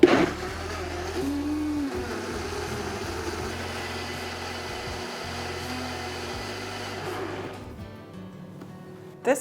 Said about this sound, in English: we are ready to blend